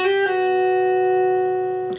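A single sustained guitar note rings clearly, with a quick pick attack near the start, then a hammer-on to the 8th fret and pull-off giving a slight change in tone just before it ends.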